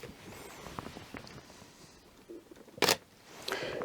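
A camera firing a flash through a Godox X1R wireless trigger gives one sharp, loud mechanical click-burst midway, set among faint handling taps and rustles close by.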